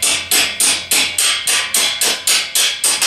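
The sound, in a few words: tapping out the center column of a Tao Tao scooter front axle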